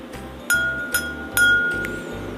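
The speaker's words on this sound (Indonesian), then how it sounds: "silakan kita pukul satu persatu gelas tersebut menggunakan sendok" A spoon taps drinking glasses one at a time, three bright clinks ringing out close and clear over a steady low hum, the sharp pings sustaining briefly before fading.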